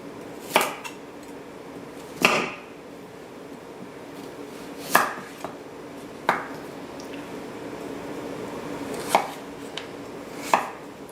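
A knife cuts peeled carrots into quarters and sticks on a board for a vegan roasted fennel medley, with about seven separate, widely spaced chops, each a crisp close knock against the board, over a quiet room hush.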